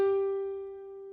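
A single musical note G rings out clearly, struck once and left to sustain with bright overtones as it slowly fades, alone with no talking.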